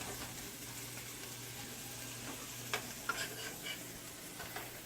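Fish fillets, previously frozen and marinated, fry in oil in a pan, giving a continuous close sizzle with a few sharp pops and spatula scrapes, no talking.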